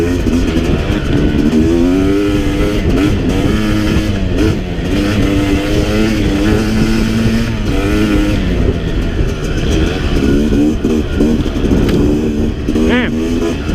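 A 2017 Yamaha YZ250X two-stroke dirt bike revs loud and close on a mountain trail ride, its pitch rising and falling continuously through hard acceleration with other engine noise mixed in.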